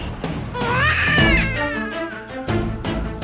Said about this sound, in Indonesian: Itu suara bayi?